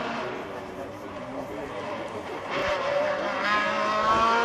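A race car passes at the Quettreville hill climb, its engine rising in loudness toward the end as it nears, heard amid crowd noise and excited spectator talk.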